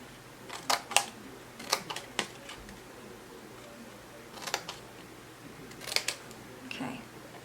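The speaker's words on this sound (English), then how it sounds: "I'm going to cut that one square out completely" Scissors snipping a square out of paper for a handmade card holder, a few crisp, close cuts in short clusters with quiet pauses between them.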